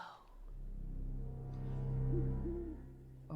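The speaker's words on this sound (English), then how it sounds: "spooky forest with some hooting owls" Owls hooting in a spooky forest, a few soft hoots over a low droning musical backdrop, fairly faint and unhurried.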